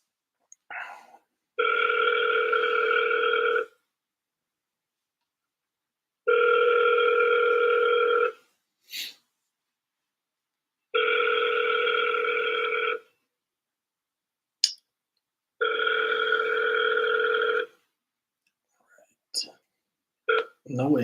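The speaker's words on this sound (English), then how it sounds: "so I'll try calling one more time" An outgoing phone call rings four times with no answer, each two-second tone burst separated by long silent gaps, with soft clicks and handling noises between rings and a brief voice at the end.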